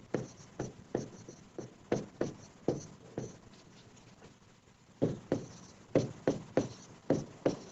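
Chalk or pen strokes tapping and scratching in a steady rhythm during a Class 10 science lesson on acids, bases and salts, loud and close, with a short quieter pause midway before the quick strokes resume.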